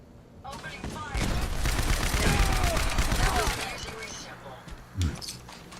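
Rapid sustained gunfire in Fallout 4, a dense burst of shots rolling for about three seconds, followed by a pause and one sharper, louder report.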